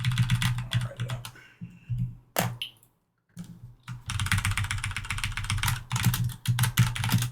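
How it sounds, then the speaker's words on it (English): Rapid typing on a computer keyboard, close and crisp, in bursts of clattering keystrokes with a brief pause in the middle before resuming steadily. "I'm just gonna type this. I'll write it out."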